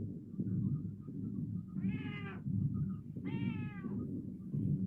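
A cat meows twice in a TV episode, two clear, drawn-out calls a second apart over a steady low background hum.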